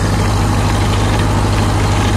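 A tractor engine running an 1800s rock cruncher chugs steadily at a low, throbbing idle, loud and close with an even pulsing rhythm throughout.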